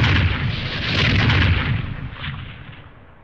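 Booming cannon artillery fire rolls on continuously, a dense, thundering volley of deep blasts that swell and fade without pause, loud and close with no voices.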